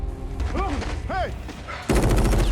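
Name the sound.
gunfire from MP submachine guns in a horror film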